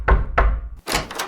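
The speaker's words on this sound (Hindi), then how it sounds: "उसी रात दरवाजे पर आहिस्ता सी दस्तक हुई" Two soft, dull thumps of a knock on a door, spaced about a third of a second apart, in a Hindi animated story, followed by a brief rustling burst.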